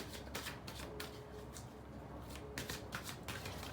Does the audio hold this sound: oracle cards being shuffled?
yes